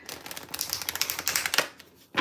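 Tarot cards shuffled by hand in a fast run of crisp, ticking riffles and soft slaps, fairly close, with a brief pause near the end before one more burst.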